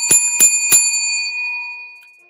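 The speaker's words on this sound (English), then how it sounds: "Let's ring the bell for that." A bell rung for a zero score strikes three quick bright dings, close and loud, then the metallic ring decays into silence.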